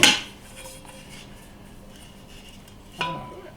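Metal pots and a skillet from a Cochran's cook set clank together, one sharp clatter at the start and another about three seconds later, close and ringing briefly, with quiet handling between.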